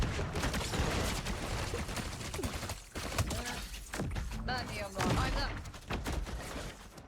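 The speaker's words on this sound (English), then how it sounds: "Is somebody else firing at me?" Gunfire in the video game Fortnite, with dense bursts of rapid shots and impact thuds crackling through the whole stretch, loud and close, with a player's voice talking over the shooting at times.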